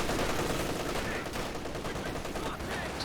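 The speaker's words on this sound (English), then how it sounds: "MG wars over here." Rapid machine gun bursts and scattered rifle shots from an MG34 and other team weapons in a Company of Heroes 2 multiplayer battle, loud and continuous for the whole stretch with no talk over it.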